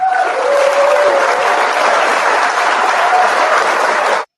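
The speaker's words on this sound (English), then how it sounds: "I can pull in some applause and play around with sound effects." An applause sound effect played from a mixing desk: a dense, loud, steady burst of crowd clapping lasting about four seconds, then cutting off abruptly.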